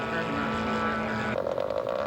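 Engine drone of a scale model aircraft on its landing approach at a flying contest, a steady buzzing tone that shifts pitch partway through, continuous and fairly close.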